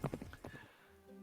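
Horses galloping away into a forest in the Guts and Blackpowder game, a short burst of close clip-clop hoofbeats and a faint whinny that trail off into a low steady hum.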